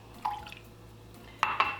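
Water and rice vinegar poured for a stir fry sauce: a couple of short liquid splashes and drips against a container, separated by a quiet gap with a low background hum.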